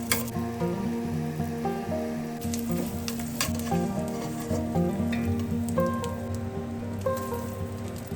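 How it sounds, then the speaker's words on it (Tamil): Edible gum frying in ghee in a pan gives a steady, close, crackling sizzle with dense popping bubbles throughout, free of talk. "தேவையான அளவு நெய் ஊற்றிட்டு கொஞ்சம் கோந்து சேர்த்து அதை நல்லா வறுத்துக்கலாம்"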